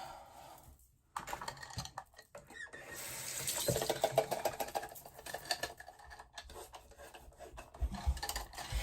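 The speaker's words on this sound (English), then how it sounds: "I gotta shave my armpits" Razor blade scraping across underarm skin and hair, a steady raspy rub in short repeated strokes, close and fairly loud, with no talking.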